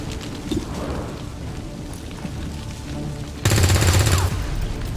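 Rapid automatic weapon fire from a firefight in XCOM 2: War of the Chosen, a steady crackling barrage that jumps to a louder, denser burst near the end before easing off.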